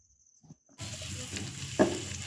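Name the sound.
chopped coconut and cashews frying in ghee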